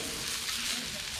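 Potatoes and onions sizzle steadily on a Blackstone 36-inch flat-top griddle, a continuous close hiss of frying with no distinct pops.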